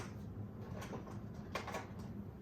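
A small drawer slides open in a quiet room, giving a few faint, soft knocks and rattles with no voices.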